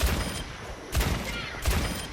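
Ash's rifle in the video game Overwatch fires three loud, punchy shots, spaced evenly about a second apart, with game ambience between them.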